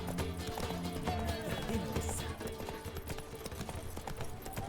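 A horse gallops in the video game The Witcher 3, a steady rapid clip-clop of hooves running continuously beneath game ambience, with faint scattered sounds around it.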